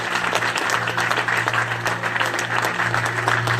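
Church audience applauding to acclaim the Lord during a French-language sermon in Montreal, steady dense clapping from a large crowd throughout, loud and sustained with a faint hum underneath.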